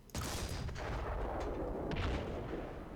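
A 75 mm infantry support gun fires in a World War II mod of the video game ARMA 3: a sharp, loud blast opens, followed by a long rolling boom and echoing rumble that fades slowly, with no voices.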